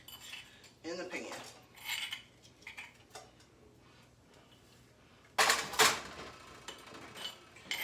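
A heavy cooking pan is handled in a kitchen while making spicy shrimp curry, with scattered metallic clinks and scrapes and a louder clattering burst near the end, fairly close and without talk.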